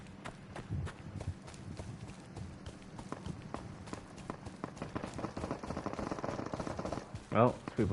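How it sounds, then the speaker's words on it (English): Video game gunfire in a war-zone match crackles as rapid, irregular bursts of shots, moderately loud and sharp with scattered impacts, building slightly toward the end. "Oh, people shoot up here."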